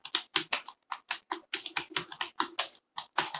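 Rapid bursts of computer keyboard typing during a touch-typing speed drill on home-row keys, keystrokes clattering in quick irregular clusters with brief pauses, close and clear with no voices.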